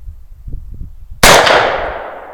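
A single sharp crack from a custom AR-15 rifle fired at a can target, loud and close, with a long trailing echo that dies away after some low rumbling beforehand.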